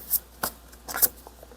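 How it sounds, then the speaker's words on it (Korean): A tarot card slides out of a deck with a few quick papery swishes and snaps, close and crisp, no voice over it. "1번님 마지막으로 조언 카드 한 장 뽑아 볼게요"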